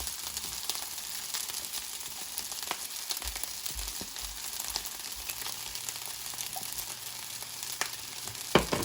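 Carrots fry in a pan for fried rice as oyster sauce is poured in, keeping up a steady, even hiss and crackle with occasional utensil clacks and no speech.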